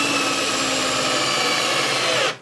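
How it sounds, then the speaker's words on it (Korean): A WORX 12V cordless hammer drill driver drives a 75 mm screw, a loud steady motor whine held for about two seconds before cutting off sharply, close up with no talking. "그 다음에는 해머 드릴 드라이버."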